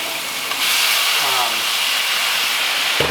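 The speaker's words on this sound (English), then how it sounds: "Watch out, we're gonna flambe this." Alcohol flares up in a pan while making lobster fra diavolo on an electric stove, a sudden loud steady whoosh and hiss that holds for a few seconds with a brief tonal squeak partway through.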